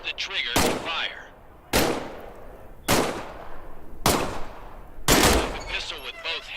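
A pistol in the VR game Medal of Honor: Above and Beyond fires five sharp, loud single shots about a second apart, each with a short decaying tail, with faint voices in the background.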